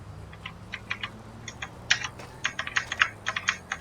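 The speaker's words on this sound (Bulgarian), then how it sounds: "Аз пък продължавам да натискам Shift-а" Keyboard keys clicking in quick irregular bursts during a GTA 5 bicycle session, close and fairly crisp over a low droning background hum, with no talking.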